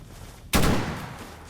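Gunfire in the video game Stalker GAMMA: a single sharp shot bursts out mid-clip and rings off into a short decaying tail over a low background hum.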